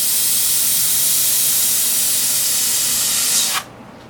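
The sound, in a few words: airbrush spraying paint with sputtering spray sound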